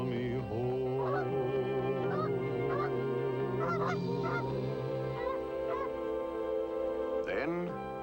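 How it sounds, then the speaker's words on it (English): Wild geese call in a chorus of repeated honks, steady and fairly prominent over a sustained musical backing, the honking overlapping throughout. "Wild geese are calling, they call me home."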